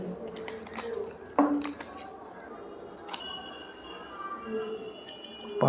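Salt (NaCl) is spooned into a glass laboratory vessel while preparing salt cake by the Leblanc method. There are several light metallic clinks and taps at irregular intervals under quiet room noise.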